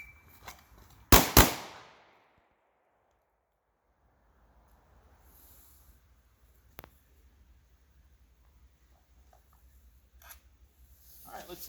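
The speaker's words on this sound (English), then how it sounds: "stepping to the side, 2 shots." Two sharp, loud pistol shots crack in quick succession during a lateral movement shooting drill, followed by a long near-silent stretch with faint background noise and a few small clicks.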